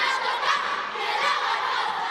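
Government primary school students cheer together at a singing and cheering competition in a church hall, a sustained chorus of young voices shouting in unison at moderate distance.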